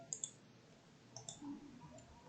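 Computer mouse clicks while drawing in Autodesk Inventor: a few sharp, quiet clicks spaced irregularly over faint room hiss.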